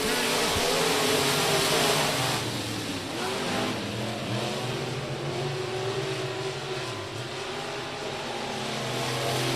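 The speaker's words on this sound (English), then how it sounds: "cars going everywhere" Race cars roaring around the track at Rocket Raceway Park during a KR Cup and Rocket Challenge event, a loud continuous engine drone with several cars revving and passing, layered and steady throughout.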